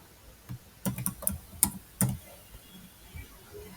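Someone types a name into an Excel cell on a computer keyboard, a quiet run of irregular key clicks in a few quick clusters, close and alone.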